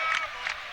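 Basketball crowd noise from Los Alamitos fans during a CIF semifinal game at the Pyramid arena, two short swells of cheering and shouting over a steady distant arena murmur.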